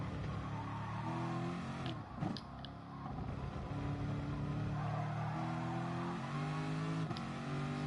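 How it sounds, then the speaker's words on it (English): A Corvette race car engine in Gran Turismo Sport drones and revs steadily, shifting quickly through gears with rising and falling pitch, loud and continuous throughout. "When to change gear with the Corvette is important."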